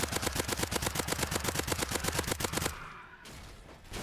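Rapid automatic gunfire from a Mad Max-style post-apocalyptic survival game, a loud, evenly spaced stream of shots that stops abruptly, leaving a quieter rumbling background.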